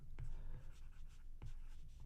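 Pen or marker writing out a chemical name on a board, a few scratchy strokes with two sharper taps, close and fairly quiet in a room with a low background hum.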